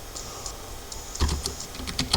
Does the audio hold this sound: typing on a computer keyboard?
yes